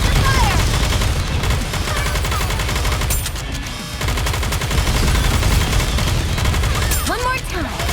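Sustained gunfire from the mobile shooter Goddess of Victory: NIKKE, dense overlapping automatic bursts and shots with a short lull midway, loud and close, mixed with game effects and voices.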